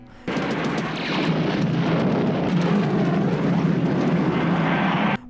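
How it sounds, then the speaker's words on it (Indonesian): Two Vietnamese military aircraft roar overhead during a bombing raid, a loud, steady engine rumble with a broad rushing wash that holds for several seconds before cutting off. "dua pesawat udara milik Vietnam sibuk melakukan bombardir terhadap wilayah itu."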